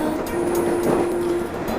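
A local commuter train rolls along in the Corpse Party: Book of Shadows video game, a steady low rumble with a sustained tonal hum and faint rail clatter, heard alone.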